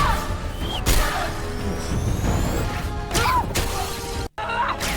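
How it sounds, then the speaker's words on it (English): Loud smashing and shattering impacts as Na'vi arrows strike and break the glass cockpits of human aircraft in Avatar: The Way of Water, several sharp crashes amid a busy action soundtrack with a short silent gap near the end. "So the human glass cockpits are susceptible to Navi arrows?"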